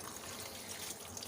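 Hot water pours over boiled noodles sitting in a strainer, a faint, steady hiss and trickle lasting only a moment.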